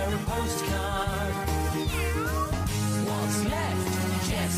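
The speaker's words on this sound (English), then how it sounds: "What's left? Just the cat." Cartoon cat meows in Postman Pat The Movie, rising and falling cries heard over loud, busy theme music with a steady thumping beat.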